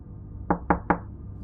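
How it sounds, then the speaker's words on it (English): Three sharp knocks on a wooden cabin door, evenly spaced about a fifth of a second apart, close and distinct against a quiet background. "Another knock answered him."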